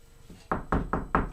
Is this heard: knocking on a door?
yes